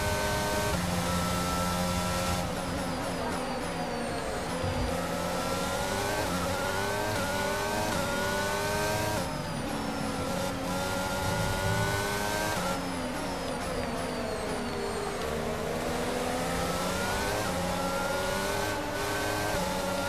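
F1 2022 race cars scream around the first lap of the Australian Grand Prix, the engines rising and falling in pitch with repeated upshifts and revving, loud and continuous without any talk.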